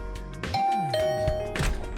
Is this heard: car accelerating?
no